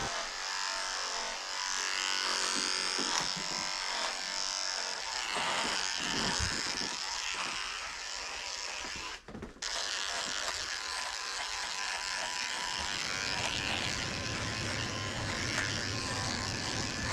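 Electric grooming clippers fitted with a 10 blade shaving a Shih Tzu's belly, a steady close buzz that shifts in pitch and load as the blade moves through fur, with a brief pause near the end.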